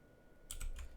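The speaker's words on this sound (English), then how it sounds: "you can just click Alt H on your keyboard" Two or three quick clicks on a computer keyboard sound sharply up close as a shortcut is pressed, following a moment of near silence, with no voices.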